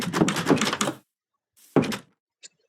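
Minecraft door clicks shut once with a short wooden thunk, followed by a faint tap, after a voice speaks briefly.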